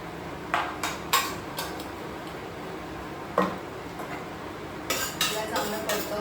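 Metal spoon scraping and clinking in a pan as onions are stirred with ginger-garlic paste, sautéed for a chicken sukha curry; scattered sharp clinks with quiet gaps, moderately close, no talking.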